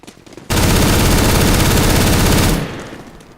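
Sustained automatic gunfire in the video game CS:GO bursts in loudly and runs steadily for about two seconds before cutting off into a fading tail.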